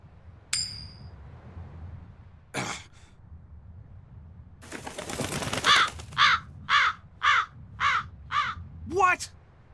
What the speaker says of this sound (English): That crow just flew off with the coin!